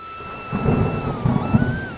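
Rolling thunder rumbles through a storm over a farm field, with rain hissing steadily; low booms build and swell in uneven waves, loud and close, with no voices.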